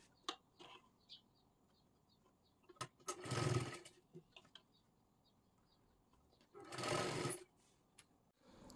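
A sewing machine stitching fabric for a size 38 princess-cut blouse, running in two short bursts of rapid, loud whirring separated by quiet pauses with faint clicks and handling noise.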